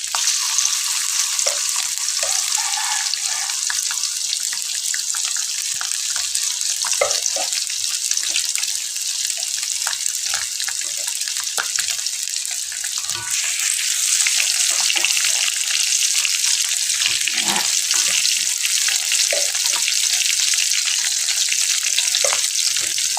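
Cucumber pickle with spices cooks in a pan, giving a loud, steady sizzle with scraping stir sounds throughout and occasional clinks and splashes of water nearby.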